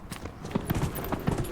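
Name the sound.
horse hooves while riding a horse in video game Dragon Age Inquisition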